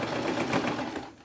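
A sewing machine runs steadily in reverse to backstitch while a beach bag is being sewn, a close, continuous whirring buzz lasting about a second before easing off.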